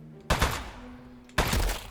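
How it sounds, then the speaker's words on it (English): Two heavy bursts of turret gunfire from the video game Aperture Desk Job, each a loud rapid rattle lasting about a second, with a low hum between them. "Shoot the turret at him."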